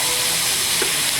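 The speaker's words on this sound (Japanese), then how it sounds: "炒めていきます。" Onions and meat stir-frying in a steam pot, a loud, steady hiss and sizzle heard close up with a faint stirring scrape, no voices.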